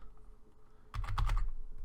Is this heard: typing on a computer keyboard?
yes